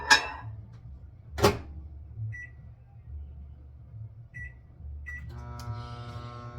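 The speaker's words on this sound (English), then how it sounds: "I'm going to pop it in the micro. And I'm going to pop it on 30 seconds." A microwave oven melting butter in a ramekin: a door thump, then a few short keypad beeps and the low steady hum of the oven starting up.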